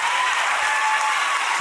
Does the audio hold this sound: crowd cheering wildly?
yes